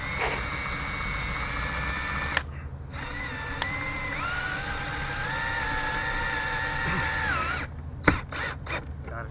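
Cordless drill running in a long continuous whir with shifting pitch, near and loud, broken by a brief stop and a few short bursts toward the end.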